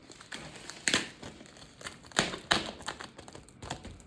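Cardboard box from an online order holding dresses being opened, with scattered crinkling, tearing and scraping bursts of packaging, several sharp louder rips close by, no talking.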